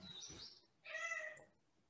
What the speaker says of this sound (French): Le chat, il est d'accord.